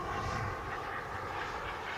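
A turbine-powered RC model jet rolls for takeoff, its engine producing a steady, broad roar with no voices over it.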